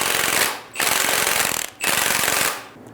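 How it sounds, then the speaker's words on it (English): An 18mm socket turns the strut top nut on a 2000-2007 Ford Focus front strut assembly, giving three loud, rapid bursts of rattling impact, each about a second long with short gaps between them. "Using an 18mm socket, remove the top nut."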